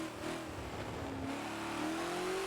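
A Ford GT40 race car engine in a Forza game lapping the old Mulsanne layout at Le Mans drones loudly and steadily, its pitch rising under throttle, with no talking.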